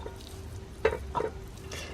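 Very lean ground beef, frozen in a 4-ounce portion, is broken up as it cooks in a Dash Mini rice cooker for meat sauce, giving a soft sizzle with a few faint scraping stirs.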